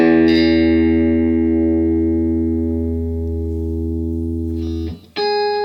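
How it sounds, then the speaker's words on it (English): A single electric guitar E note, played hard through a clean tube amp, rings out clean and sustained, slowly decaying, then a second note is struck briefly at the end. "Now if I play an E note, and I played it kind of hard"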